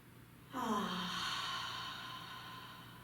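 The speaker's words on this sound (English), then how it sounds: "Take a deep inhale." A single deep breath during a breathing exercise rises suddenly and then tapers off slowly, a close, voiced, sigh-like sound over a faint steady background hum.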